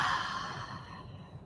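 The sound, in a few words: deep breathing during yoga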